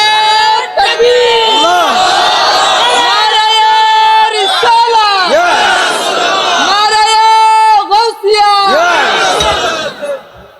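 A large crowd at an Islamic sermon chants the takbir in response, loud, repeated unison shouts rising and falling in several waves across the clip, close and dense.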